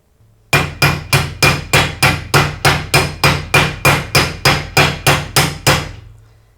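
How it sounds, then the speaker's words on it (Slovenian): A washing machine bearing tapped into its seat on a stainless steel drum by striking it with the old bearing: sixteen evenly spaced, sharp metallic blows in a steady run, close and loud, with a brief ringing tail after the last. "Vzame se star ležaj in se okoli in okoli z občutkom tolče."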